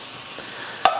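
Chopped steak pieces sizzling in a frying pan, a soft continuous crackle with a brief scrape of stirring near the end.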